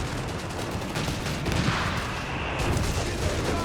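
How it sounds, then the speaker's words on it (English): Bishop self-propelled guns fire during a battle in the strategy game Company of Heroes 3, a dense, loud barrage of booms and gunfire with no pause. "More Bishop fire in the centre."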